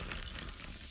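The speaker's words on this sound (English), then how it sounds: "Listen to that endless pour." Pepsi Zero Sugar cola pours and fizzes in a continuous, soft crackling hiss of bubbles, heard alone and close.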